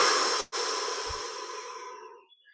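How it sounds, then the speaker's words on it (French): A slow, deep exhale during a guided breathing meditation, breathy and close, with a brief catch before a long, fading release that trails off into near silence. "Puis on laisse l'air sortir"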